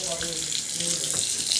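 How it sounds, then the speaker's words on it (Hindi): Water splashed by hand onto bricks and a floor in hot weather, a continuous wet splashing and pouring wash close by, with no pauses. "मम्मा जी पानी मार रही है ईंटों को और फर्श पर"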